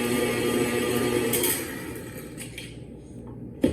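An electric mixer whirs on a low setting through apple cake batter with flour added, a steady hum that fades in the second half, broken by a few clicks and a sharp knock at the end.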